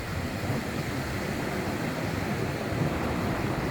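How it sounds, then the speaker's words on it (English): Steady rush of ocean surf on the beach at Varadero, Cuba, with a constant wash of waves and wind buffeting the microphone, no voices. "Walking along the beach on our final full day"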